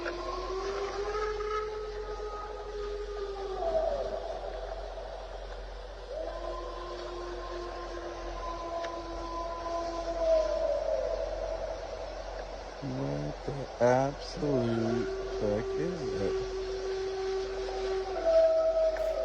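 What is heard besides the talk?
wolf howling in a video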